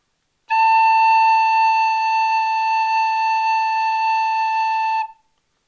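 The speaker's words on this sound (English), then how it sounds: "This is going to be our note A. I'll play it for you now." A tin whistle holds a single steady note A, loud, clear and pure, sustained for about four and a half seconds before stopping cleanly, with no other sound.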